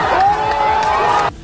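A crowd of protesters advancing while chanting slogans, a dense mass of raised voices with one sustained shouted note that stops abruptly near the end.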